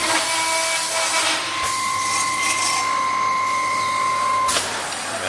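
A cutting machine in a mattress factory slicing four bars at once, a steady mechanical whine with sustained tonal hum and grinding texture running continuously, near and loud, no talk.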